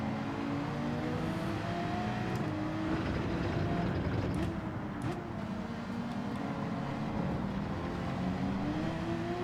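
Porsche race car engine in Gran Turismo 7 droning steadily under the whole stretch, with gear-shifted revving shifts and faint track noise, no voices.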